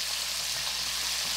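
Prawns (sugpo) deep frying in hot oil, a steady dense sizzle and crackle that stays loud and even throughout, with no talking.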